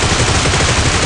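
Rapid gunfire from the video game PUBG, a loud dense burst of shots fired in quick succession that fills the whole short moment with no voice over it.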